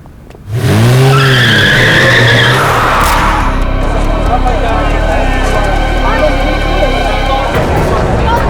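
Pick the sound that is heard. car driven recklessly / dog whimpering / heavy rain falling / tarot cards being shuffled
car driven recklessly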